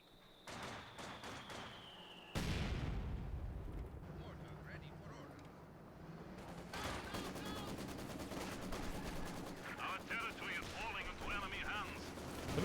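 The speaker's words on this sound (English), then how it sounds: "The Maxim gun has such a distinctive note." A Maxim machine gun fires in a Company of Heroes 2 battle: sharp bursts and rattling rapid fire among booming artillery blasts, all a fairly loud, continuous din.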